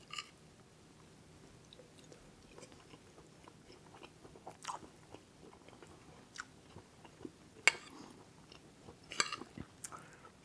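Quiet, close chewing of salmon kabobs with wild rice, with soft bites and intermittent wet crunches that spread unevenly over several seconds and build toward a few louder chomps near the end.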